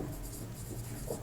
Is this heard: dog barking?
no